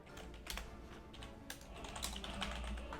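Computer keyboard typing, steady stream of soft keystrokes with a few sharper clicks, close and continuous over a low background hum.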